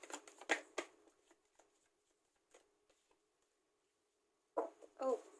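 Tarot cards are shuffled in quick bursts of soft riffling and slapping, loud at the start, thinning to scattered taps, then a fresh close burst near the end, with near-silence between.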